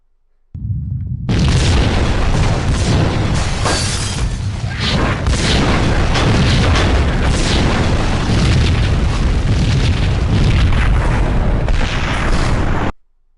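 A loud, sustained explosion from the Max Payne video game, New York Minute mode, kicks in abruptly and roars on for about twelve seconds with crackling bursts before cutting off sharply.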